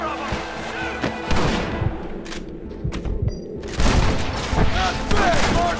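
Covering gunfire rattles through a Western shooter video game battle, with repeated close gunshots and rifle bursts in uneven clusters, some booming louder, mixed with shouted voices.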